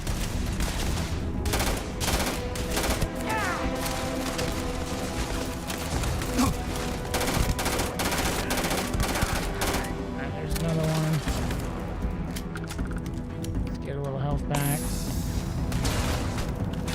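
Rapid bursts of gunfire and laser weapons in the sci-fi shooter Starfield, loud, dense and continuous with booms and mechanical clatter, with a voice talking over it.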